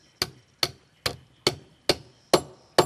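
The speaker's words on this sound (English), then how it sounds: "This is a particularly lovely hammer when you're hammering something flat, not sculptural, because it gives so much beautiful texture" A hammer strikes flat metal to texture wearable jewelry, seven sharp, ringing blows at a steady, unhurried pace, each decaying quickly, close and clear with no talking.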